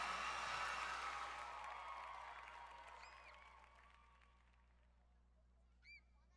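Audience applause greets a musical at a ceremony for youth, a dense, steady clatter of many hands that starts loud and slowly thins and fades over several seconds, with a brief bird-like squeak near the end.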